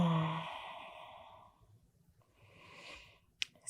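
A long, deep exhalation during a postnatal yoga session in an all-fours position, close and soft, fading into quiet before a fainter second breath and a small click near the end.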